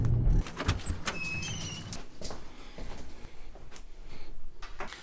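Cabin of a moving car heard from a passenger seat: a steady low road rumble with a few clicks and brief squeaks near the start, fairly quiet, with no voices.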